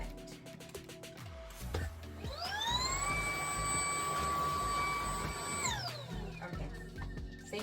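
A Shark cordless vacuum, an ION P50 or Vertex Pro, running with its brushes not spinning: the motor winds up into a steady high whine, holds for a few seconds, then spins down, close and alone.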